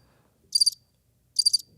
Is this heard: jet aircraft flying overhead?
no